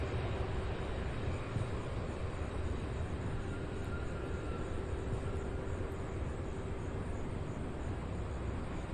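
A large aircraft taxiing at Louisville International Airport near the UPS Worldport ramp, a steady broadband engine roar with a faint whine, distant and constant, with no talk.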